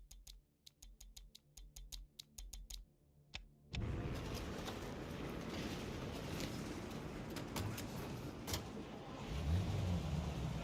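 Taxi car in Mafia: Definitive Edition, a few dry clicks first, then a steady engine drone and road rumble that swells slightly toward the end, with no talking.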